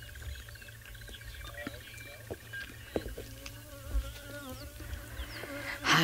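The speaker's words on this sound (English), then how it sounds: "This wasp is not going to leave me alone." A wasp buzzes in faint, wavering passes around a person outdoors, set against quiet bush ambience and scattered distant bird calls.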